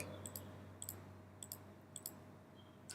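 Mouse clicks while drawing in AutoCAD, a series of crisp, quiet double clicks spaced roughly half a second apart, then a final one after a pause, with a low hum underneath and no talk.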